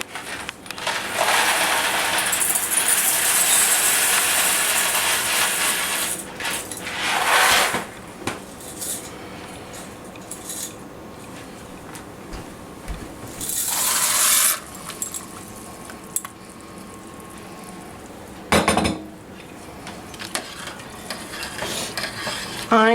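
Dry macaroni is poured into a 2-cup measuring cup in a home kitchen for homemade mac and cheese. A close, loud, rattling patter of hard pasta runs for several seconds, followed by more pours and clattering bursts.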